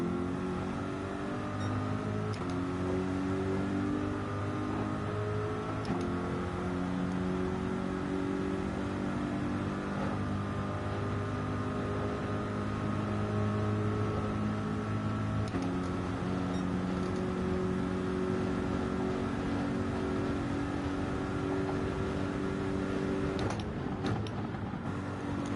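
A GT3 race car engine in Gran Turismo 7 drones steadily through an open lobby race, its pitch climbing and dropping with each gear change and corner, a sustained mechanical whine with no talking.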